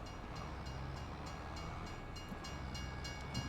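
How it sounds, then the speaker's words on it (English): A train rolls past in the video game Farming Simulator 25, a steady low rumble of wheels and cars at moderate distance with no talking, running on evenly throughout. "This train's gonna drive me nuts as long as it takes."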